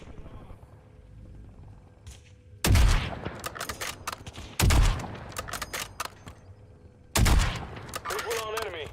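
Bursts of automatic gunfire in Call of Duty Black Ops 6, three loud sustained volleys with sharp rattling shots standing out against quieter game ambience and occasional spoken callouts.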